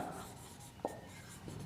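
Chalk or marker writing on a board during a chemistry lesson, a single brief scratchy stroke in a quiet room with faint background hum.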